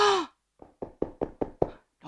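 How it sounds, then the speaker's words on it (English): Knocking on a door in a children's retelling of The Three Little Pigs: a short wail-like sound, then a steady run of five or six hollow knocks, close and fairly loud, with no talking. "knock, knock, knock."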